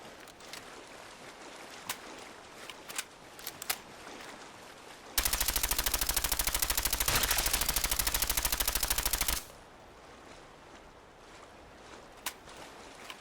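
Video-game gunfire in Fallout 4 with a fast sustained automatic burst of several seconds, loud and dense, framed by sparse single sharp shots before and after.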